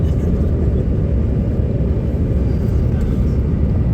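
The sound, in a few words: airplane landing at New York City, heard from inside the flight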